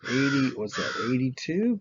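On a back porch, a crow gives a couple of rasping caws in the background while a man reads out numbers up close.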